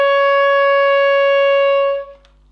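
A clarinet holds a single sustained high E flat, an octave above the lower one, played steady and clear for about two seconds before stopping into a short quiet tail.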